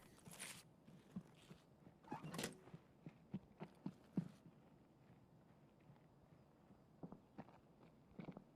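Footsteps in Escape from Tarkov, a string of soft, muffled steps heard from upstairs, faint and intermittent against a low ambient rumble, with a few louder thuds scattered across the stretch.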